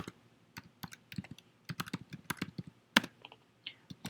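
Keystrokes on a computer keyboard while a TFTP command is typed for a StrataLink 24 radio firmware upgrade, quick irregular clicks in bursts close to the mic, with one sharper louder keypress near the end.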